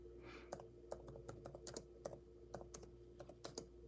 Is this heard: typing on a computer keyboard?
yes